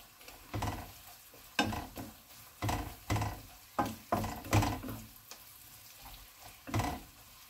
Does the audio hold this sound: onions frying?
yes